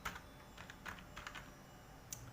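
Quiet, close keystrokes on a computer keyboard, a quick irregular run of light clicks with short pauses between bursts, faint against low room noise.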